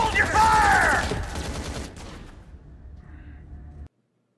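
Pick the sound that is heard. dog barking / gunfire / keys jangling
gunfire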